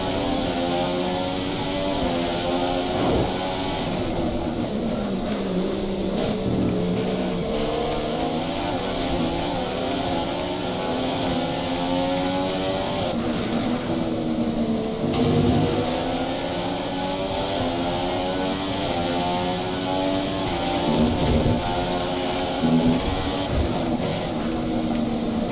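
A Formula 1 race car in a video game accelerating with DRS open: a steady, loud high-revving engine whine rising through gears in repeated sweeps, with short shifts and dips, continuous throughout with no talk.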